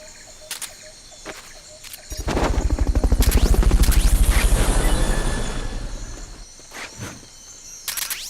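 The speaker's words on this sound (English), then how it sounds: "Fulton recovery helicopter is complete." A recovery helicopter in Metal Gear Solid Peace Walker roars in with a loud, rapid rotor thump that swells for several seconds and fades, with sharp clicks and game effects before and after.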